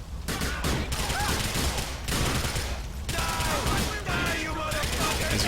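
Dense video game shootout gunfire, with rapid overlapping shots and bursts that run almost without a break at a steady, loud level.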